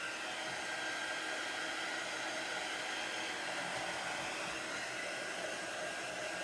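A hair dryer blows continuously at close range, drying chalk paste on a craft project of a vintage truck, a steady loud hiss with no pauses or talk.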